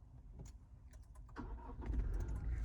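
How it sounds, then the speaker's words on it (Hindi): A brand-new Toyota Fortuner 4x4 with a 2800cc engine cranks with a brief whir, then catches and settles into a low, steady idle. Faint clicks come just before it starts, all close up with no talk. "चलिए एक बार इस गाड़ी को स्टार्ट करके देखते हैं।"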